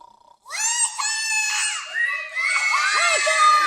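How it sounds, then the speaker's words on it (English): Several children yell and shriek together in loud, high-pitched bursts, sustained and overlapping like a noisy group of kids shouting. "You kids, I told you not to yell at me like that"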